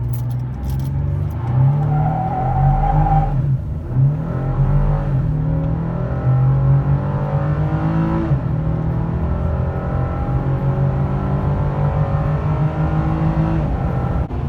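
A 2018 Chevy Colorado ZR2 truck engine pulls steadily under acceleration, a continuous loud droning hum with rising and shifting harmonics, heard close from inside the cab with no talking.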